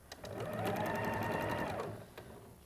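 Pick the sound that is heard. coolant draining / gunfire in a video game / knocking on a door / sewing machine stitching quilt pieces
sewing machine stitching quilt pieces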